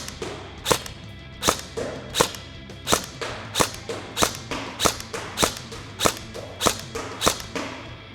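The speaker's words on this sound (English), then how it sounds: "let's go ahead, fire a few rounds" A VFC 416 airsoft rifle fires single shots one at a time, about a dozen sharp, loud cracks spaced evenly under a second apart, with no talk between them.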